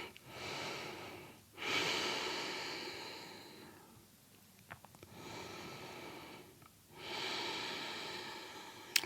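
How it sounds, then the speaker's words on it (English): Slow, steady breathing during a yoga class, long airy inhales and exhales alternating in a calm rhythm, close to the mic with no talk. "Slow and steady breaths"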